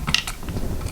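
An electrical outlet screwed back into its wall box with a screwdriver, giving a few quick close ratcheting clicks and faint scraping metal ticks in a quiet room.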